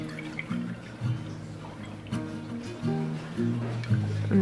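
Milk is poured into a measuring cup for bread rolls in a home kitchen, a close liquid trickle with short drips and splashes, under faint tonal hum and sparse background noise.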